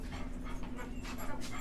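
A neighbor's dog being walked past a porch pants rapidly and steadily, with faint whines, against constant background noise.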